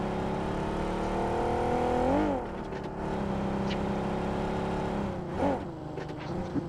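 A vehicle engine in BGMI (PUBG Mobile) drones at a steady hum, rises briefly as it revs, dips, then swells again, fairly faint and mostly on its own.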